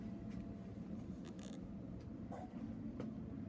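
A fold-down bridge on a basement model railroad layout creaks as it is moved, a steady low mechanical groan with a few sharper clicks and knocks along the way, close and without talk.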